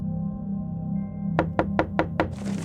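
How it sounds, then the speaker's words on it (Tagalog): Five sharp knocks on a window, evenly spaced and fairly close, heard over a low steady hum. "bigla na lang kaming makarinig ng katok sa bintana"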